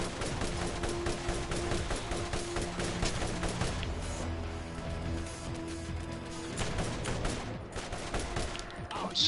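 Rapid bursts of turret gunfire rattle from a rooftop in a video game, dense and continuous over a rumbling low-end bed of game noise, with scattered heavier impacts throughout.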